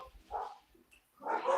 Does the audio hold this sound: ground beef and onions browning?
no